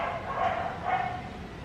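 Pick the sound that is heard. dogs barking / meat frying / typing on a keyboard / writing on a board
dogs barking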